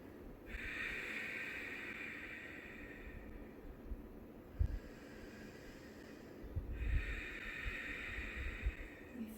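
Slow, deep breaths taken while holding a yoga back bend: two long, soft inhale-exhale cycles, quiet and close, with faint noise in between.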